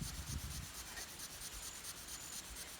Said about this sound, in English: we rub the smaller piece on the bigger piece